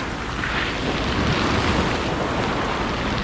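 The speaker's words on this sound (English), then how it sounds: "We've got some quite big rollers now." Big sea waves roll onto a shallow sandy beach in winter as a steady, loud broadband roar of surf, mixed with gusting wind buffeting the microphone, with no clear break in the noise.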